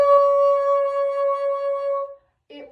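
A bassoon holds a high D-flat fingered with the C key, one steady sustained note for about two seconds that ends cleanly, followed by a brief faint noise.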